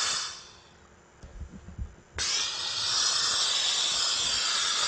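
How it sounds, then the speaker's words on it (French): Steam cleaner blasting bursts of hissing steam onto bedbugs inside a truck cab: one loud hiss fades out, a few soft knocks follow, then a strong, steady hiss resumes and holds to the end. "On met 2-3 coups de vapeur"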